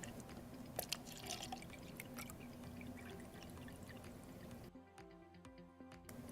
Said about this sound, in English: Fill your beaker or cup with water.